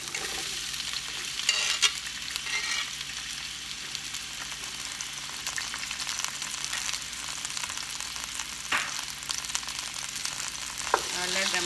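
Onions frying in three tablespoons of oil in a pan, a steady broadband sizzle running throughout with occasional louder pops and crackles and the scrape of stirring.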